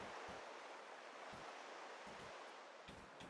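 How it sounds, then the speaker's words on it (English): Ocean ambience in the game A Letter to the Future, a steady wash of surf and rushing water, broken by a few short low thumps, heard quietly and alone. "I'm trying to put in a sound of the ocean."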